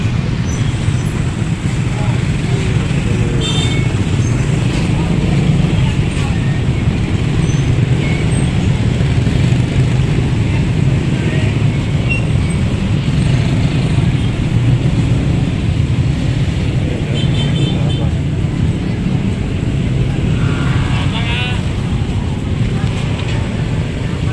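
Dense traffic jam on a road in Palembang, with a loud, constant roadway rumble of idling and creeping cars and other vehicles close around, occasional faint horns and voices mixed in.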